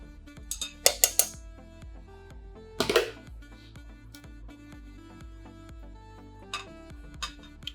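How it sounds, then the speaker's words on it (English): A utensil clinks and scrapes against a metal pan while pork shank ingredients are stirred, with a few sharp clanks early, a louder scrape near the middle and lighter taps at the end. "now I will mix everything before placing the potatoes inside"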